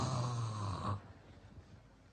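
A voice imitates snoring, a single rough, drawn-out snore lasting about a second, fairly loud and close, then fading into quiet room noise.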